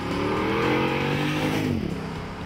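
A Jeep Grand Cherokee SRT8 with over 400 horsepower climbs the Pikes Peak Highway near the summit. Its engine drones loudly and steadily, the pitch rising and then sliding as it works through the mountain road, with no voices.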